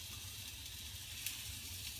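Salmon searing in a new frying pan, a faint, steady sizzle and hiss running evenly throughout with no talking.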